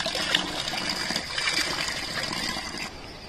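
Cold spring water pours and gushes steadily at the Ma Shila Devi mountain temple in Uttarakhand, a continuous close-up splashing flow.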